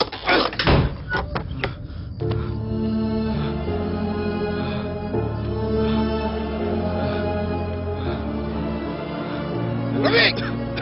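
A door is knocked or banged several times in a quick cluster near the start, then a single louder knock follows near the end, while a music score plays underneath throughout.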